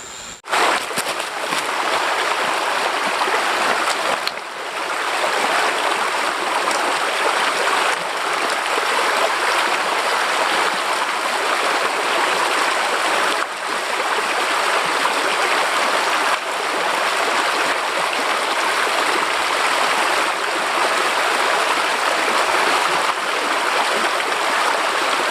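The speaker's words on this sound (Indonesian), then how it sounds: "ini kulitnya udah dipotongin semua. Setelah ini akan kita langsung cuci dulu" Steady running water pours continuously while freshly cut beef skin is rinsed for a spicy stir-fry, a loud, even rush that fills the whole stretch with only brief dips.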